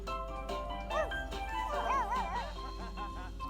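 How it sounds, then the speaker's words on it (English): A dog in a Sims 2 apartment yips and whimpers in short, rising cries over steady game music and background hum, moderately loud. "And why is the dog in here?"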